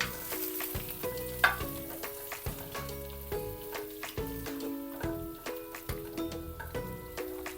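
Butter, 150 grams, melts into light-brown garlic in a hot pan while a shrimp dish is cooked, giving a close, steady sizzle broken by small clinks from stirring.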